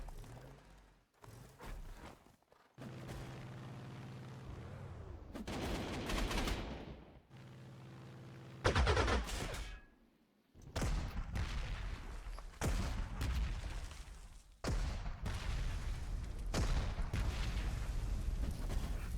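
Bursts of gunfire and artillery booms in the Panzer Corps 2 strategy game, a Spanish Civil War scenario at Toledo, coming as irregular loud volleys with short quiet gaps between them.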